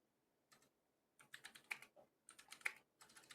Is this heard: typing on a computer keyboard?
yes